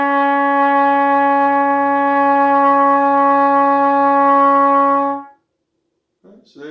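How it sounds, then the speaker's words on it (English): A trumpet sustains a single low E flat for about five seconds, steady, clear and close, then stops abruptly. A faint brief sound follows the silence. "the low E flat. That's the first note of the Star Spangled Banner."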